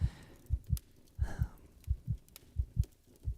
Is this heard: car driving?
no